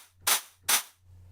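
A shortened crash cymbal sample plays twice in quick succession, each hit a brief, bright splash that cuts off quickly over a faint low hum.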